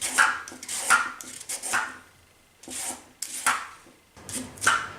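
Knife strokes slicing parsnip into long tagliatelle ribbons on a cutting board, in irregular bursts of scraping cuts separated by short pauses, close and fairly quiet, no talk.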